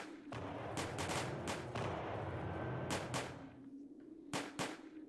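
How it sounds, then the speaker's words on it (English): Artillery bombardment in the Napoleonic-era strategy game Combat Directive: Napoleonic Wars, with repeated loud cannon booms landing in irregular bursts over a low continuous rumble of battle noise. "Our artillery is still sort of bombarding away."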